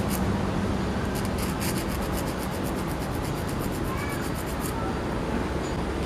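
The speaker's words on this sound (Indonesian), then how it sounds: "Kita bentuk dengan menggunakan kikir." A hand file rasps back and forth on a metal bolt being shaped into a dart fin, a steady, close, gritty scraping that continues without pause, with a faint high metallic ringing partway through.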